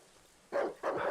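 Two short barks from a dog in the dark survival game Darkwood, close and fairly loud, the second following quickly after the first against a quiet backdrop.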